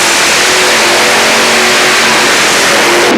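A 3.4-ton modified pulling tractor named Viper roars at full throttle at Europool Zwolle, a loud, dense, sustained engine howl filling the whole clip, then cutting off sharply at the end.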